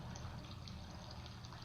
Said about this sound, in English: We have a water sound